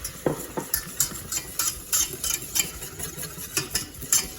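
Flour being stirred into melted butter in a pan to make a roux, a continuous soft scraping and shuffling with regular utensil clicks against the pan and a light sizzle underneath.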